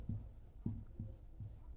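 Chalk writing on a board during a chemistry lecture, four short tapping strokes spaced evenly, close and fairly quiet.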